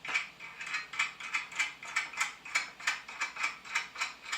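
Metal nuts ratcheting down a threaded bolt while building a first forge, a steady run of about a dozen crisp, evenly spaced clicks, close and fairly quiet, with no talking.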